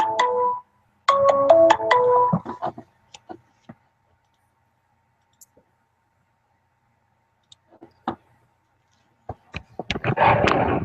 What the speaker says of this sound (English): you can decline that call from him